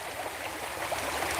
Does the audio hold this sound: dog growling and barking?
no